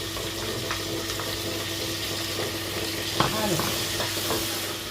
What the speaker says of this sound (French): l'ail et l'oignon sont revenus.